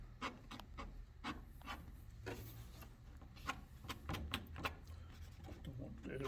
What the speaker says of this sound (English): it's cut at different angles and I use it for scraping